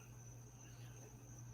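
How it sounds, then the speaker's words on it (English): Crickets chirp outside at night in a steady, continuous high-pitched trill, faint and even throughout with a low background hum beneath. "That is crickets."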